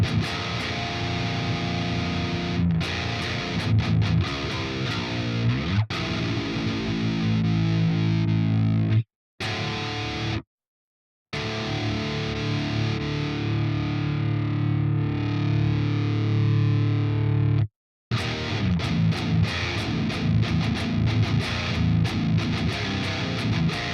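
A Zool distortion preset in Reaper, heavily distorted and loud throughout, with a couple of abrupt silent cutouts breaking the dense, buzzing wall of sound.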